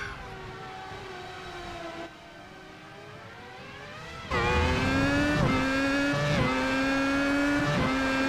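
Race cars in a racing game scream past at Monza, engines whining with rising and falling pitch, then louder and nearer with sharp gear shifts as the field closes in.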